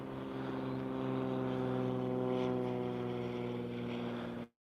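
A propeller airplane passes overhead outdoors, its droning engine hum with strong steady harmonics swelling slightly louder then holding before cutting off abruptly at the end.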